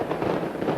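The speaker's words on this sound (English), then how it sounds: "And a great brace of fireworks, as you can probably hear there" Fireworks crackle and thump in quick, loud succession as the Leeds rugby league team walks out onto the pitch, a dense burst of bangs with no voice over it.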